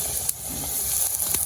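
Egg rotti sizzling in hot oil in a home kitchen, a steady close frying hiss with a few soft pops and crackles and no talk.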